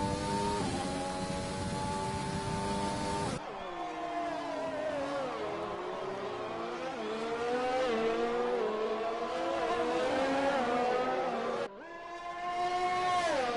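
Formula 1 cars race in F1 2020 at the Canadian Grand Prix, engines screaming with rising and falling pitch through gear changes, one car loud and close, with abrupt cuts between passes and no voices.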